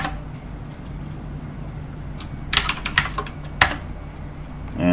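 Keyboard typing at a computer, a short burst of a few clicky keystrokes in the middle and end over a steady low hum, fairly close and moderately loud, with no talking.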